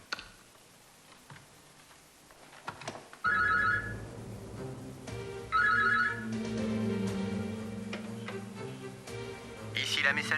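A telephone rings in repeated electronic trills, two bursts separated by a pause, clear over a soft dramatic music bed with a ticking undertone.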